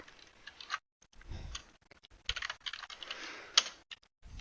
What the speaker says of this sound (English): we're just going to type in pretty much this whole thing right here